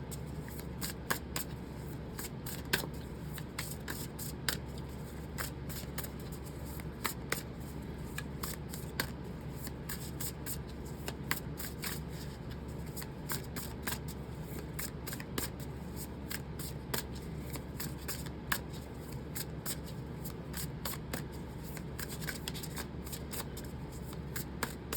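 Tarot cards are shuffled continuously and close by, a steady stream of soft riffling and crisp snapping clicks against quiet background hiss, with no talking.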